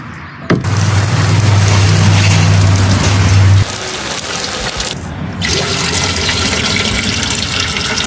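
Rainwater pours and splashes hard onto a surface, a loud steady rush that cuts out briefly and then resumes as a lighter, even patter.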